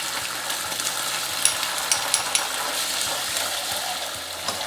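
Ginger and garlic sizzle in a pan for lentil curry, a steady fry with scattered small pops and clicks.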